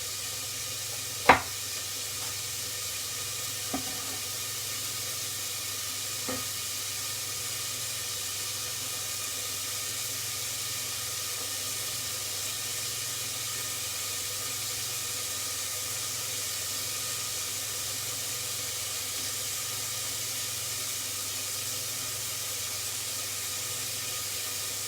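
Red peppers sweating in a covered pan over low heat give a steady, soft sizzling hiss that runs unbroken, with a few light clicks of utensils early on and no talking.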